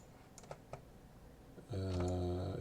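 A few faint, sparse keystrokes tap on a computer keyboard while keyboard shortcuts are entered in Maya, before a loud steady droning hum takes over.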